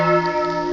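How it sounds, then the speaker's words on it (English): The bells of St. Nikolai Church in Flensburg ring at six in the evening, a sustained, steady resonant tone with layered overtones, continuous throughout the brief moment. "In the background, you're gonna hear the bells of St. Nikolai Church"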